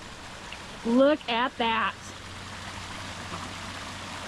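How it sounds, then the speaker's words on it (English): Water running down a newly built garden stream waterfall, a soft continuous rushing wash under a brief spoken remark. "The second waterfall."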